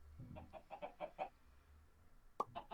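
Chickens clucking in the Minecraft modpack Stoneblock, a quick run of short, fairly soft clucks followed by a pause and a sharper burst of clucks near the end, with no talk.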